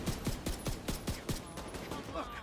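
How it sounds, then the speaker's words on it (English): Rapid burst of about seven sharp impacts in steady rhythm from rockets fired at the player in the video game Warframe, loud and close, then fading into a busy game backdrop. "Why am I being shot with rockets?"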